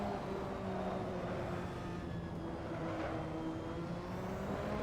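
A McLaren MP4/4 turbocharged Formula One car races around Spa in Assetto Corsa, its engine a steady, loud, high droning whine with a faint rising turbo whistle, continuous and close throughout.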